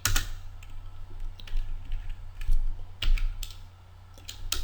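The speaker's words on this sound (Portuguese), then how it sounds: "Eu vou digitar aqui memo1 e a sua propriedade" Computer keyboard keys clatter in irregular quick bursts, close and fairly loud over a low steady hum, with short pauses between clusters of keystrokes while entering a query.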